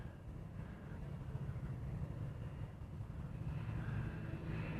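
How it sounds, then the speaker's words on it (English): A Cessna SkyCourier twin-turboprop of Kamaka Air passes in the distance near Honolulu, a low steady engine rumble with a faint whine that swells slightly toward the end, with no talking. "So this here is a Cessna Sky Courier. It's Kamaka Air."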